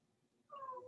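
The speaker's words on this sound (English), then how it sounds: "And you may hear my cat Calvin, who now thinks that it's time for him to start singing." A pet cat named Calvin lets out a single short, drawn-out meow after a moment of near silence, faint and somewhat distant indoors.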